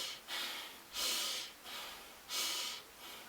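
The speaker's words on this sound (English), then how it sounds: "you also want to breathe into your nose" Breathing in and out through the nose, as taught for boxing, comes in close, airy rhythmic cycles: two strong sniffing inhales alternate with softer exhales over a few seconds, with no speech.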